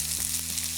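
Vegetables going into a pan of hot canola or olive oil over medium-high heat for a cheese steak sandwich: a continuous close sizzle and crackle, steady and fairly loud, with a low hum beneath it.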